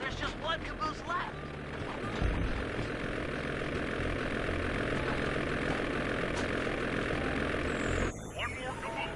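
An ice plane's propeller engine drones steadily in the Sly Cooper 2 video game, a continuous broad roar that holds throughout and dips briefly near the end.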